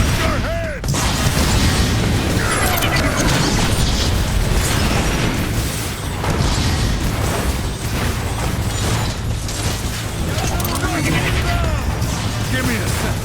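Rocket explosions in the video game Transformers: War for Cybertron, loud repeated booms and bursts amid clanking mechanical battle noise, with voices speaking over the chaos.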